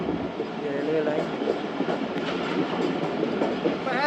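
Jaffar Express train rolling along the railway line on its Peshawar Cantt to Lahore run while approaching a station, with a steady rumble and rattling wheels throughout and a faint voice at times.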